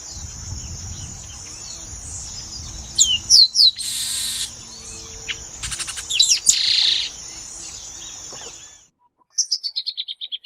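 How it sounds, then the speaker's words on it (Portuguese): A chestnut-capped blackbird (garibaldi) near water gives shrill, squeaky song phrases in short bursts, loud and close, over a low rustling background, ending with a rapid series of descending chirps after a brief silence. "Garibaldi, também comum em muitas regiões do Brasil, gosta de ficar perto da água e tem esse cantinho esganiçado."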